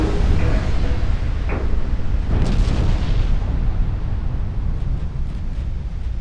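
Heavy naval gunfire from big battleship guns in Ultimate Admiral Dreadnoughts, a loud continuous rumble of booms and bursts, with a few sharper cracks early on rolling into a sustained low roar.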